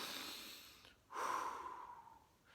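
A big, slow breath in through the nose and out through the mouth, demonstrated as a calming deep-breathing skill, with a long airy inhale, a brief pause, then a stronger rushing exhale close to the listener, no talking.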